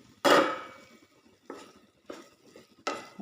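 A lid set onto a cooking pot left on a low flame: one loud metallic clatter, then three softer knocks and rattles spaced about a second apart, close by with no talking.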